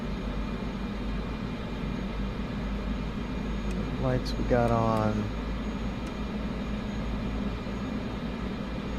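A Cessna Caravan 208B turboprop idles before takeoff with a steady low hum and constant whine, briefly swelling near the middle; a voice speaks over it in the cockpit.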